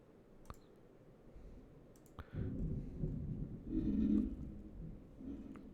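Low, muffled thunder rolls in after a couple of sharp clicks, swelling into a sustained rumble for several seconds before easing off, heard indoors with no talking.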